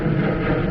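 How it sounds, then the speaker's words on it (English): An airplane passes overhead outdoors in Santa Clara, California, giving a steady, loud, low engine roar that fills the short moment with no break. "There's an airplane right above me."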